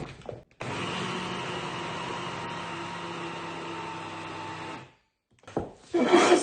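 A food processor whirs as it blends minced chicken with spices, cornstarch and egg: a loud, steady motor drone for about four seconds, then a pause and a brief second burst.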